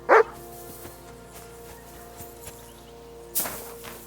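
Mutt, a dog in Kingdom Come Deliverance 2, gives one close, sharp bark. A second bark follows about three seconds later over a soft, droning game ambience.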